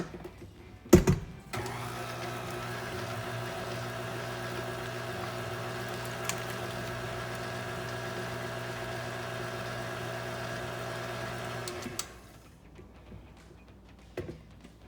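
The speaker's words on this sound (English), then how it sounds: "Let me mix this up before I add the next ingredients." An electric mixer whirs through cheese bread dough made with potato flakes: a clack, then a steady, even motor hum that holds for about ten seconds before cutting off, fairly quiet and close.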